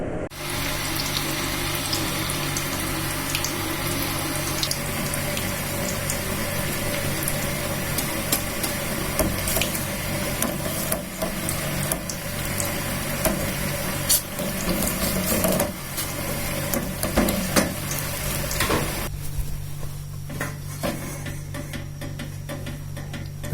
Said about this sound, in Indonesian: dikocok-kocok agak lama baru airnya bisa, boronnya bisa nyampur